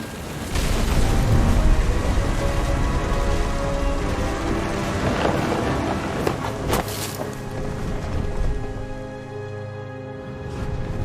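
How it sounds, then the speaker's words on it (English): Heavy rain falling steadily through a storm in the video game What Remains of Edith Finch, with a dense wash of downpour and a few sharp cracking bursts near the middle, loud and continuous with no talking. "The thunder sounded much too close and full of angry power."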